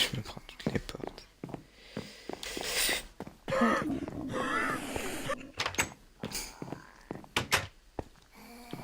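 Minecraft doors being opened, repeated close thunks and clacks at uneven intervals mixed with other game noises, moderately loud.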